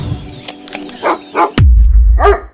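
A dog barks in a show intro for a book-review segment, giving several short, sharp barks, followed by a loud, steady low rumble.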